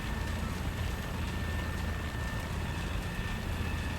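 Helicopter on a tour of Northern Madagascar, landing beside a runway: a continuous loud rotor and engine drone with a steady whine, no talk.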